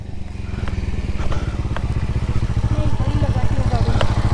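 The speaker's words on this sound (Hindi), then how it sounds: "हाँ रेस दे, पूरा रेस दे" A Bajaj Avenger motorcycle engine idles and revs up close, a steady throbbing low rumble that holds loud throughout, with voices calling out over it.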